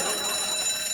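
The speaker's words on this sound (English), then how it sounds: "that's the alarming alarm" Electronic alarm tone sounding steadily for about a second as the cue for a music round in a comedy quiz show, a sustained bright ringing buzz with no talk over it.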